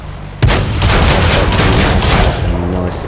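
A tank's main gun fires in World of Tanks, one sharp loud blast followed by a long booming rumble and the crunch of a penetrating hit.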